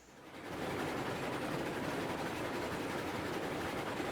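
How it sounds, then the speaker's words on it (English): A passenger train runs in the Railroads Online video game, giving a steady, continuous rumble and rolling rail noise that swells in over half a second and then holds evenly, with no talk. "The passenger train is on its way to the iron mine."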